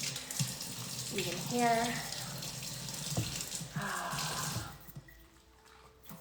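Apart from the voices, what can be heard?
water running while rinsing in the shower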